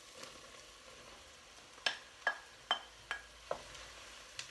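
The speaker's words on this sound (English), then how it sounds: "Mixing all that around, and now here comes the mushrooms." Wild mushrooms and other cream of mushroom soup ingredients stirred in a pot, with a spoon scraping and knocking about five times in a slow rhythm, faint and close, with no talk.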